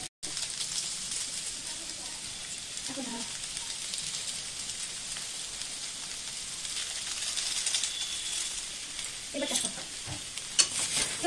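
Maggi noodles with spice mix being stirred in a pan: a soft, steady sizzle with occasional scraping stirs and light clinks, fairly quiet throughout.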